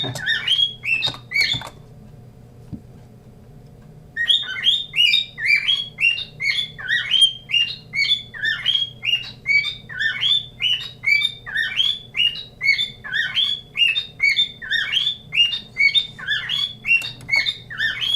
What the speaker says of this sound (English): Shut up, bird.